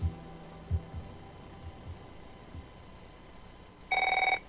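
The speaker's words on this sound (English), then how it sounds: "If fear strikes your heart when the phone rings" A telephone in a radio advertisement rings once near the end, a loud, bright electronic trill that cuts in abruptly over a quiet, humming background with a few soft thumps earlier.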